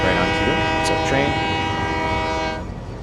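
In Satisfactory, a game train passes close with a loud sustained tonal drone and rumbling wheels, holding steady before fading away near the end.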